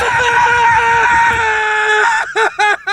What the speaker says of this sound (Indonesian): Kemudian dia berteriak dan menangis